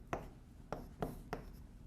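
Chalk or marker strokes on a board during a lecture: four quick, faint scratching taps in an uneven rhythm, close by and alone.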